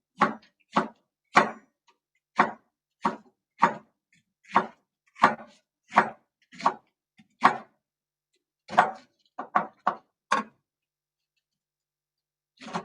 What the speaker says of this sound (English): Okay, so we're going to cut this.